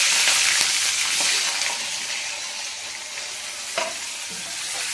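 Tomatoes fry in a pan with a dense, steady hiss and sizzle, loud and close, with a few faint clinks and stirring knocks.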